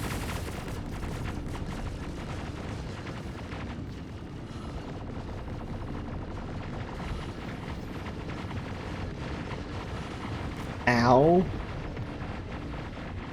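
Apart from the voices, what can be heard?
point defense cannon (PDC) gunfire in a video game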